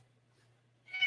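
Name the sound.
cat meowing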